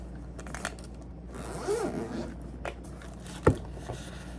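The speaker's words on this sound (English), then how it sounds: "zips closed, so you can put stuff in there and then zip the cover over it." A zipper on a small travel bag compartment runs closed in one short pull, with a few faint scrapes and a sharper click of the pull tab, all quiet and close, no talk.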